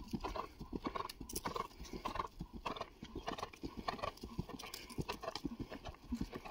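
A horse named Nagini cantering during a training exercise, hooves clip-clopping in a steady, close, loud rhythm with occasional faint voices in the background.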